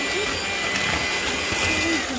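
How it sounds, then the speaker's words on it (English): An electric mixer runs steadily through chocolate chip cookie batter in a bowl, a continuous close whirring motor drone with a faint wavering pitch, holding at an even level for the whole stretch. "I'm going to go ahead and blend this together."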